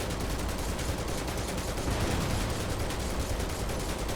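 Rapid gunfire from Barret in Final Fantasy VII Remake rattles continuously, a dense, steady burst of automatic shots with combat noise filling the whole stretch, no voices.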